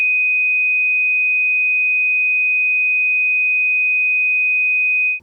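A steady pure sine tone at 2.5 kHz holds loud and unbroken for about five seconds, then cuts off abruptly.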